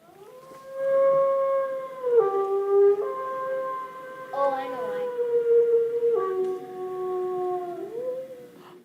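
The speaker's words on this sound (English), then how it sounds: "think about maybe why that wolf might be calling that way" A recorded wolf howls in long, sustained, wavering tones that slide down and rise again across several calls, loud and clear, with a brief voice speaking over it midway.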